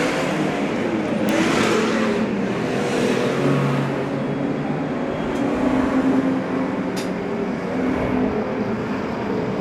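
Stock cars at the 2024 Valvoline Charity Superstock Event, night one, roar down the front straight after a restart, a loud, dense pack of engines accelerating together with steady, overlapping drone throughout.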